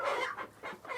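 Chickens clucking at a village poultry farm in Warikpa, Dali, several birds giving repeated close, moderately loud clucks in short bursts.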